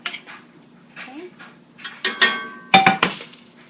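Meatball ingredients are mixed in a bowl with clinks and scrapes of a utensil against the dish, irregular and close, with a few sharper knocks toward the end and no speech.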